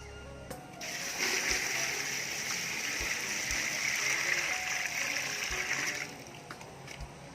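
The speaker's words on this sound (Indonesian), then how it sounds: "Sekarang kita akan isi sampai penuh dengan air." Water streams steadily into a bucket for about five seconds with a bright, hissing splash, then stops abruptly; a few soft knocks come before and after.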